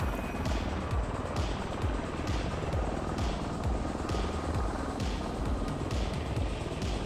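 A V-22 Osprey tiltrotor from Microsoft Flight Simulator drones steadily in flight, its rotors chopping in a fast, even rhythm under a constant engine roar that stays loud and unbroken throughout.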